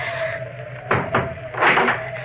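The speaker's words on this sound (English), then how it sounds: "Then we'll close the shutters." Wooden shutters swing shut in an old house for a radio drama, two clattering knocks followed by a longer rattling close, set against a faint steady hum.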